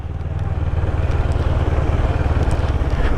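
A CF Moto 650NK motorcycle rolls into a yard, its twin engine a steady close, throbbing drone with a pulsing low rumble throughout and no voices.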